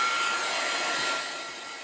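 A heat gun blows steadily to dry a craft fairy-door wreath, a loud continuous airy whoosh heard close and alone, easing slightly toward the end.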